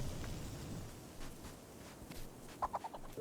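A chicken in Guild Wars 2 gives a few quick, faint clucks near the end, over a quiet hissing ambient bed with a couple of soft thuds.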